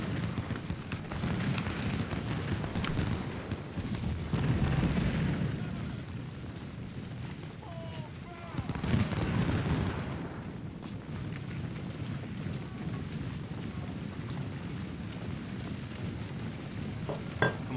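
Musket volleys and artillery fire from a Civil War battle in Ultimate General: Civil War rumble as a dense, continuous low roar of distant booms and crackling shots, swelling twice, with no clear talk.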